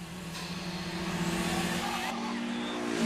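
Engines of two cars racing downhill in the Initial D anime, an AE86 among them, approach with a loud sustained drone that rises slightly toward the end, with faint voices underneath.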